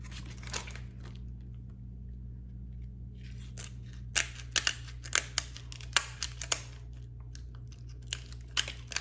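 Kitchen scissors snip through a cooked lobster shell, cut for an air-fryer recipe: a run of sharp, close crunching clicks that starts sparse and quickens into a steady series of crisp snips over a low background hum.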